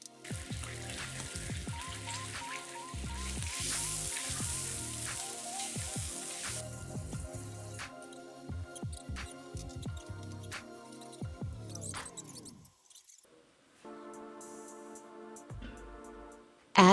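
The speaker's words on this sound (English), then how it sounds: "Wait for the oil to warm up a little." Sunflower oil and margarine heat in a soup pot, giving a steady close crackle and hiss with scattered popping drips, fading toward the end with a few clattering knocks.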